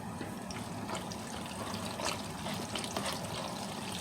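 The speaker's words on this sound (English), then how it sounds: "at this point, we're going to add another 2 cups of milk." Milk poured into a pot of macaroni and cheese makes a steady, soft liquid trickle and splash that runs for several seconds.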